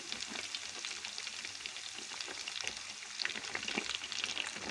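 Lebanese-style flatbread sizzles steadily in hot oil, a dense continuous frying hiss with scattered crackles and pops, close and even throughout.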